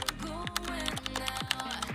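Keypad buttons pressed on a repaired button phone, a quick run of close, light clicks at a steady rhythm with a faint electronic tone underneath.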